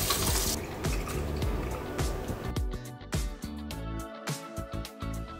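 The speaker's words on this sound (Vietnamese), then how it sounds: "Da mình thì cũng đã tẩy trang rồi nên bây giờ mình sẽ rửa mặt" A running tap splashes steadily into a sink as a face is washed after makeup removal, with scattered drips and hand splashes close by.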